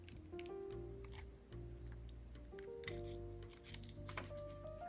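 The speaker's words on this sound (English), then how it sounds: "Grab the loop, snip off the excess, grab the tail and do my wraps." Several small metallic snips and clicks of cutters trimming excess beading wire on an amethyst necklace, close and light, over soft steady background music.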